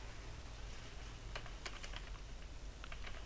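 Code being typed on a computer keyboard, a few quick clusters of light key clicks, close and faint over a low steady hum.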